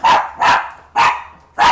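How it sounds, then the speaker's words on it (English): A dog barks four times close by, loud sharp barks spaced roughly evenly at a door on arrival, with nothing else heard between them. "there goes the dog"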